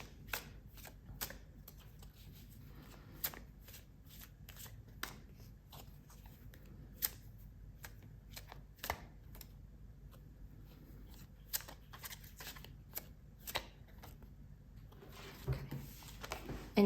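Tarot cards shuffled and pulled during a reading, a long run of crisp riffling snaps and soft flicks at close range, irregular bursts over a quiet background.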